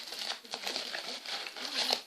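A paper envelope is handled and torn open up close, with crisp crinkling and rustling bursts running throughout.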